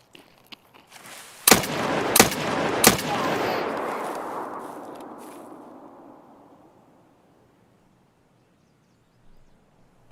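Several sharp gunshots crack in close succession from a firefight in Escape from Tarkov, each followed by a long rolling echo that fades over several seconds into quiet, with a faint distant shot near the end.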